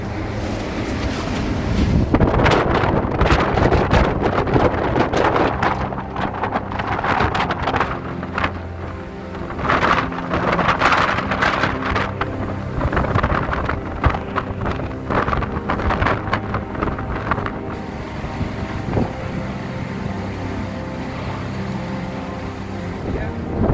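Strong storm wind buffeting a microphone outdoors, loud gusty roaring and rumbling with crackling bursts that surge and ease over about twenty seconds before dropping away near the end.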